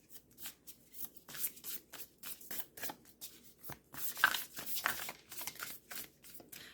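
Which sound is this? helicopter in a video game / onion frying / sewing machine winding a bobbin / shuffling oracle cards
shuffling oracle cards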